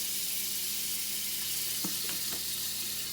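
Olive oil and butter sizzle in a hot pan with a steady, dense hiss, broken by a few faint taps of a utensil near the end.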